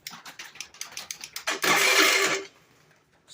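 A scooter fitted with performance parts cranks over in a rapid series of starter pulses, then fires into a loud, buzzing engine note that lasts about a second before it dies away.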